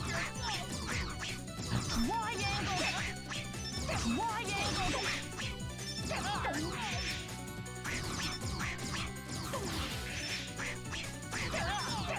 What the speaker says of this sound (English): We're back to the duck noises.